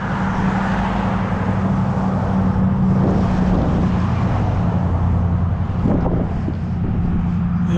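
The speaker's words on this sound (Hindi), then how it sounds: "ट्रक वाले ने साइलेंसर निकाल के उसको एरोप्लेन बनाया हुआ। आवाज़ कितनी ज़्यादा आ रही थी उसके साइलेंसर की।" A truck with its silencer removed roars loudly and continuously through traffic late at night in Winnipeg, a heavy, steady low engine drone with wind rushing over the microphone and no voices.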